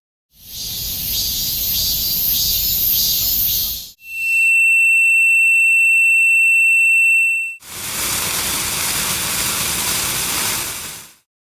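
A simulated tinnitus ringing tone, steady and piercing and made of a few pure pitches, holds loud for about three and a half seconds, set between two long bursts of broad rushing noise.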